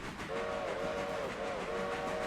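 A steam locomotive whistle in the Railroader video game sounds in a chord, a sustained blast that briefly dips and then continues over a low rumble of rail noise.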